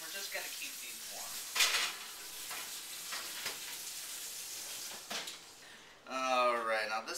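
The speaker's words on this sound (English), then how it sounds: "now this is simmering down nicely" Raspberry chicken sauce simmers and sizzles in a pan with a steady crackling hiss, broken by a few utensil clinks and pan knocks, while someone talks over it and a brief tonal sound rises near the end.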